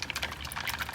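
Acid pickle solution drains out of a container after pickling an Andamooka matrix opal silver pendant, making a close, steady, bubbly trickle of liquid with no voices.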